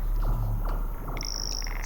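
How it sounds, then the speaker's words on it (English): Electronic track with layered cicada-like chirping rhythms, looping pulses and a high sustained tone entering partway, steady and fairly loud with no voices. "Cicada rhythms."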